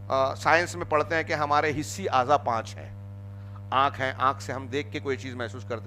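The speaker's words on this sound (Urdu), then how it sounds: "پنکھے کی آواز آ رہی ہے، کولر کی آواز آ رہی ہے۔" A steady low hum from a room fan and air cooler runs continuously beneath someone speaking.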